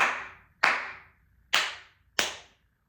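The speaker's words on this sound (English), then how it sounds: "So you know you've got it right if the sound is clear, sharp, and resonant." Four sharp, resonant flamenco palmas claps struck into a cupped palm, each crisp crack ringing briefly before the next, spaced unevenly with quiet gaps between.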